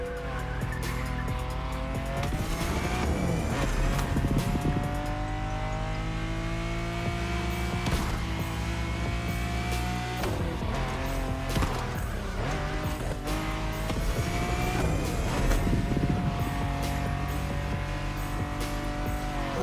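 A car is driven in the video game The Crew Motorfest, its engine droning and shifting pitch as it revs, with repeated tire squeals and skids over a loud, continuous roar.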